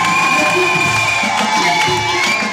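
A church congregation at a seminar in Belgium cheers and acclaims loudly, a full crowd of shouts and whoops with some higher children's voices rising over a steady roar.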